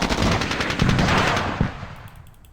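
Rapid automatic gunfire in the Squad Battles Vietnam war game, a loud, fast rattle of shots during a jungle firefight between a US patrol and the NVA, fading out with a few scattered distant pops.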